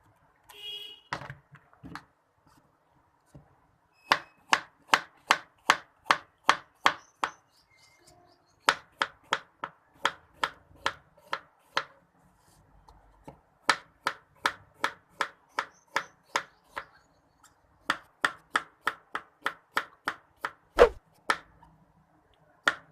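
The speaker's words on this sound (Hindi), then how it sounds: "अब हम इसे काट लेते हैं।" Knife chopping a peeled apple on a cutting board for fruit chaat: several bursts of quick, evenly spaced crisp chops, close and clear, with short pauses between runs.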